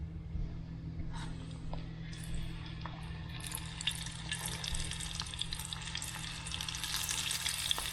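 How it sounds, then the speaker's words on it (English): Lobster pieces fry in hot oil, a steady dense sizzle and crackle that grows busier and louder toward the end, with scattered small pops and no talking. "You let these fry for about 2 minutes until they're golden brown."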